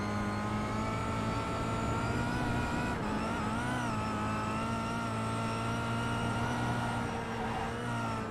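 Touring car engine in a racing video game, a steady sustained drone with clear harmonic tones that shift pitch slightly as revs change, constant and alone without speech.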